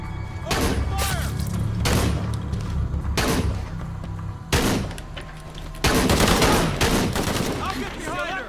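Bursts of gunfire from a combat scene in the video game Shadow of the Tomb Raider, repeated heavy volleys and thuds at irregular intervals, loud and close, with shouting voices between shots.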